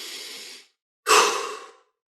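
A slow, deep breath is taken close to the mic, first a soft airy inhale, then a short pause, then a louder, rushing exhale that fades out, with no talking.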